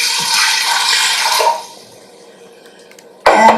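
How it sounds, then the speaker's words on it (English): Water pouring steadily into an Instant Pot for red lentil soup, a loud rushing stream that cuts off, followed by a brief quiet gap before another burst of pouring. "start with our Instant Pot, and we put in water"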